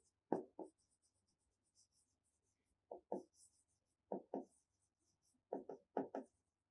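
Chalk or marker scratching on a classroom board during a science lesson, short strokes in quick pairs and clusters separated by pauses, close and fairly quiet with no speech.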